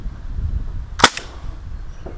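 A single sharp crack from an airsoft gun fitted with an ANT CO2 HPA conversion kit, fired outdoors in one-shot mode, loud and close against a low background rumble, followed by a faint tail.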